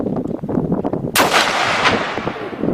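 A 5.56 armor-piercing rifle shot fired at cabinetry from about three yards on an outdoor range lands as one sharp, loud crack with a long rolling echo, following some muffled movement.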